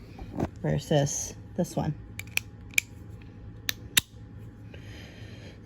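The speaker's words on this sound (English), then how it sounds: "listen to the click on this one. It takes a lot less pressure to click that one" Sharp, isolated clicks from a Crayola Clicks retractable marker, about five close, crisp snaps spaced irregularly after a brief stretch of speech, over a quiet room hum.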